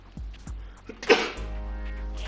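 A single sudden human sneeze bursts out near the middle, preceded by short breathy catches and followed by a low steady hum, with no words spoken.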